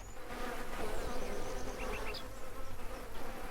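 Steady droning buzz of bees around three beehives on a farm in Farmer's Dynasty, continuous and fairly close under faint outdoor ambience, with a few bright chirps.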